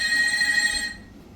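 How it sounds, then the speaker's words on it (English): A hotel bathroom telephone rings with a bright, steady electronic trill that cuts off abruptly partway through, leaving faint room noise. "why is the phone ringing?"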